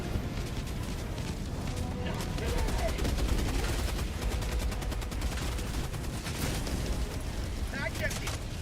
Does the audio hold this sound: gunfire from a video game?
yes